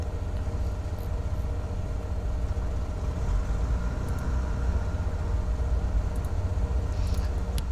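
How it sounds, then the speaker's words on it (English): Baron 58 twin-engine aircraft in the FSX flight simulator with its right engine running, a steady low rumbling drone held at constant loudness throughout, no talk. "Right engine start."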